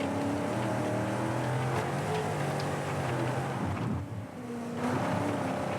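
Rally car engine in the Dakar 18 video game, driving over jumps, a continuous loud droning roar with shifting pitch and a short dip as the car goes airborne, no talking.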